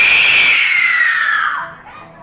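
A human voice imitating the Female Titan's screech while inhaling, a loud, shrill, sustained squeal that slides slowly downward in pitch and fades out after about two seconds.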